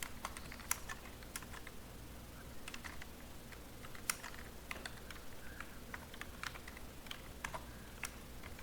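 Fast, light clicking of a computer keyboard as basic HTML is typed into Notepad++, a steady patter of soft keystrokes with occasional sharper taps, close and quiet, with no voices.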